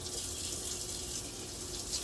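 Warm water running steadily from a household tap, a constant close hiss with no talk over it.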